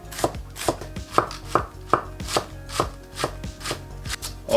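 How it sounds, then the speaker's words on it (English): A knife thinly shaves cabbage for a Lebanese-style salad, making about a dozen crisp, evenly spaced slicing thuds against a cutting board, close and clear. "we're gonna slice it so pretty much it's gonna be shaved"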